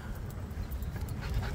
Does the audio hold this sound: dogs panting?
yes